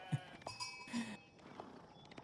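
Sheep in a real-time strategy game bleat several times in short, close calls, with small clicks and chimes from the game around them.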